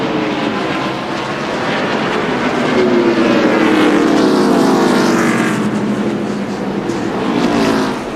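NASCAR stock cars race at the 2002 Virginia 500, a dense, loud, continuous roar of many engines sweeping past into turn one.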